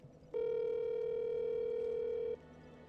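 While a game hotline is being called, a single steady telephone ringback tone sounds for about two seconds, clear and even, then cuts off, leaving faint background noise.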